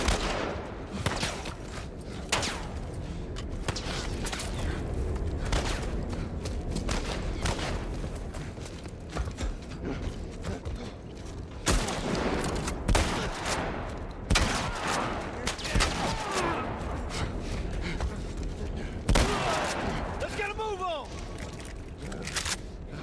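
Gunfire in The Last of Us Part I, with dense overlapping bursts and single shots running through a long chaotic firefight over game background noise, fairly steady in loudness.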